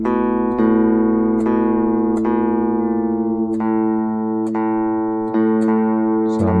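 A guitar's open A string is plucked and rings slightly sharp. It repeats about eight times at a steady pace, clear and close, with no voices over it.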